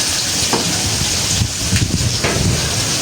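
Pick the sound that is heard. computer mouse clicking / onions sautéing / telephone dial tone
onions sautéing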